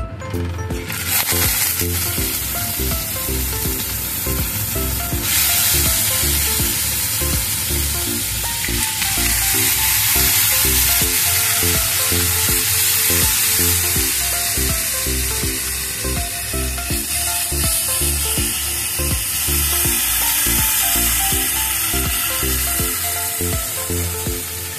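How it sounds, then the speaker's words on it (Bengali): Chicken dropped into hot oil for a tortilla wrap filling fries with a loud, continuous sizzle and crackle close up, holding steady throughout with no talking. "তেল গরম হয়ে গেছে, এবারে চিকেনটা দিয়ে দেবো।"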